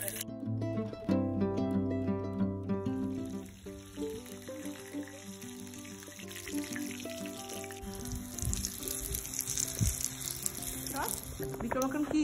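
Prawns fry and sizzle in a small kadai at an outdoor picnic in Denmark, a steady close hiss with some bubbling throughout, while people talk over it and faint tonal sounds drift in early.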